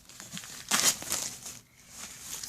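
Paper wrapping on a book subscription box is torn and pulled apart, heard as close crinkling and tearing bursts with a quieter pause before the rustling resumes.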